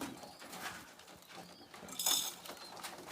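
Soft cooing of domestic pigeons in a loft, faint and steady, with light rustling and a brief brighter clatter partway through.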